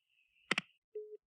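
A telephone signal tone rings while a call comes in from Buffalo, New York: a steady high tone, a sharp double burst, then a short lower beep, all close and clear.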